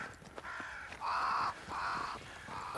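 Crows cawing in the video game Banishers: Ghosts of New Eden, several loud harsh caws in a row, close by and alone with no talk.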